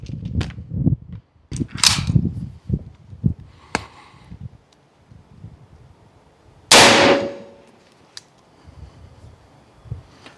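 Shots from an AEA Zeus .72 caliber billet airgun fired for a five-round group: several sharp cracks spread across the span, one loud close blast near the end, with quieter clicks and handling noise between them.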